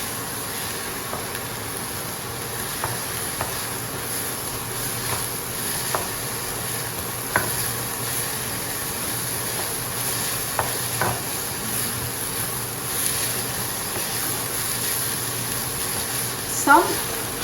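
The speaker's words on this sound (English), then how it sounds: "Now after the vegetables have been sauteed for a while" Vegetables sauté in a pan for dim sum in a cooking class, a steady sizzle broken by intermittent scraping clicks of stirring, while a voice talks over it.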